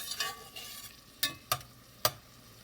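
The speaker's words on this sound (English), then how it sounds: "I'll let that onion soften just a little bit in the butter." Onion softens in hot butter with a quiet, steady sizzle, broken by a few sharp scrapes and taps of a utensil stirring the pan.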